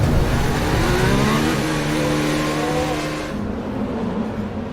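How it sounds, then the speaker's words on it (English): Formula 1 cars on the formation lap at Baku whine past with a rising, high-pitched engine tone that drops away sharply after a few seconds, leaving fading engine noise in the distance. "So the cars begin their formation lap in Baku."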